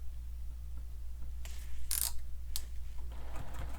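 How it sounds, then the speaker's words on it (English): A sewing machine topstitches along the bottom edge of a fabric sling pack. Its motor gives a low, steady hum, and a few brief mechanical clicks and rattles sound over it. "we can top stitch along this bottom edge where we sewed"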